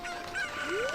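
Chicken clucks and a short rising squawk from a chicken in The Legend of Zelda: Ocarina of Time, set over steady game background music for about a second, no talking.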